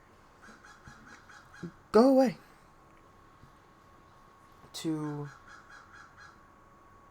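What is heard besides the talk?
crows cawing outdoors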